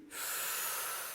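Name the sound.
group breathing in and out together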